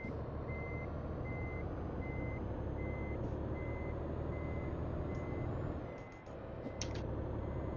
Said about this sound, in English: Yeah, he's pulled off, but he's just in reverse.